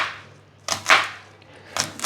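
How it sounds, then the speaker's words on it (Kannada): Knife chopping onions on a cutting board in a home kitchen: three sharp, separate cuts, clear and close, with quiet pauses between them. "ಬೇಗ ಈರುಳ್ಳಿ ಹೆಚ್ಕೊಂಡು ಬಿಡ್ತೀನಿ."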